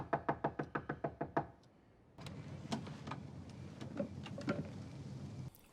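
Sharp door knocking from Better Call Saul, about eight loud, evenly spaced raps in quick succession, then a pause followed by a busier stretch of scattered thumps and clatter.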